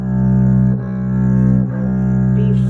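A single sustained B note on a bass, plucked and left ringing with rich, steady harmonics, re-articulated a couple of times with a soft pulse, loud and close with no talking over it.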